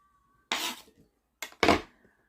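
A knife cuts through an apple with its peel on against a board or plate. There are three short crisp chopping clacks, two of them close together near the end. Each is sharp and near against otherwise quiet surroundings, with no talking.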